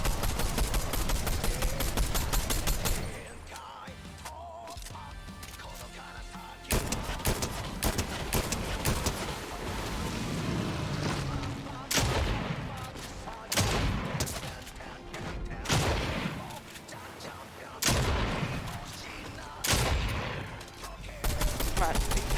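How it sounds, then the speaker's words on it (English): Rapid bursts of video game gunfire aimed at a shark, dense loud volleys broken by short pauses, with brief speech between bursts. "I'm gonna shoot the shark."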